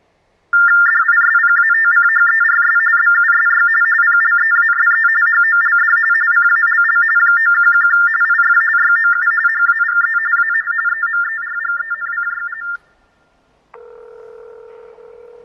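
TDD tones play on a San Francisco Police Department phone line: a loud, steady electronic warble holds for about twelve seconds, drops out briefly, then a lower, quieter tone comes in.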